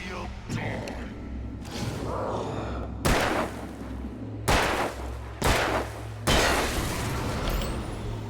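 Gunfire during an Alan Wake boss fight, heard as several heavy, booming shots spaced a second or two apart over a constant low rumble, with speech running through the whole stretch.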